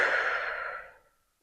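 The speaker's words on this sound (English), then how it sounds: "I want you to just breathe for a few seconds" A single long, close exhale, a slow breathy sigh that fades out smoothly over about a second into silence.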